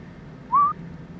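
Whistle from a song, a single short, clear rising-and-level note lasting about a quarter second over a faint low background.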